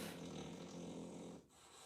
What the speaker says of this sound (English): Nah, he just doing too much snoring now.